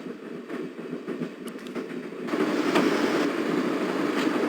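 A moving train in the game Broken Sword: Director's Cut, a continuous rumbling roll with faint rhythmic clacks that grows louder partway through.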